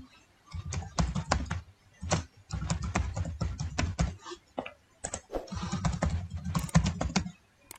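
Fingers type a username on a computer keyboard, a close, steady clatter of keystrokes in several quick bursts separated by brief pauses.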